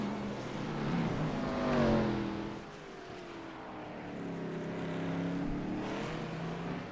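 Race cars at the Long Beach Street Circuit in a racing video game, engines droning and swelling as cars pass, rising and falling in pitch over several seconds with no talk.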